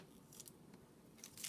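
Scissors snipping through tape, a couple of quick faint crisp cuts close by in a quiet room, the last one slightly louder.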